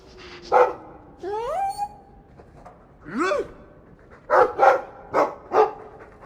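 A dog in a video game, Dragon Age 2, whines with rising yelps, then gives a series of short, sharp barks in quick succession, clear and close with quiet pauses between.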